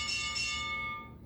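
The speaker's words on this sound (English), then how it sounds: "There's the bell." A wrestling bell rings once with a bright metallic clang whose clear tones sustain, then decay over about a second, with no talk over it.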